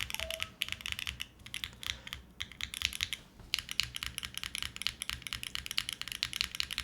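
Continuous fast typing on a computer keyboard, a dense clatter of close, crisp keystrokes with only brief pauses, no voices over it.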